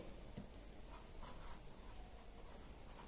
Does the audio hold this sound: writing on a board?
yes